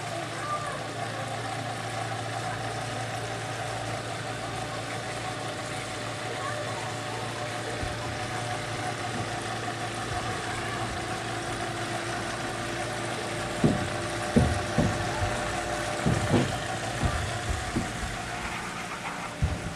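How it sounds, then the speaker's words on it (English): A water pump running in a flooded basement with log floors, a steady droning hum with a constant tone, joined later by clanking and knocking sounds, close and fairly loud. "Alright, let that pump a little bit."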